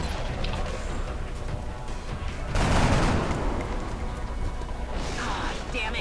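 Gunfire crackles in an XCOM battle at a train station: a steady background of shots with a louder burst of fire near the middle, with someone commentating over it.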